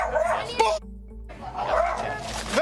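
A dog barks and yips in a tense outdoor encounter, a couple of sharp barks heard over and between overlapping voices talking.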